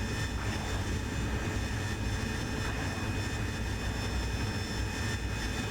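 Steady jet engine roar of an AV-8B Harrier in the DCS flight simulator, a dense, continuous rumble with hissing high end held at constant loudness throughout, no voices.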